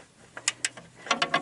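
A ratcheting wrench clicks on an upper control arm bolt of a 2012 Honda Accord LX, two short bursts of crisp metallic ratchet clicks close up with brief pauses between them.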